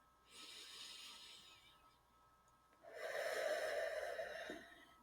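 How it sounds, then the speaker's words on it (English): Slow, deep breathing, close and quiet, in two drawn-out airy breaths with a slight wheezy rasp, the second longer and fuller, with no talking. "I want you to breathe in slowly."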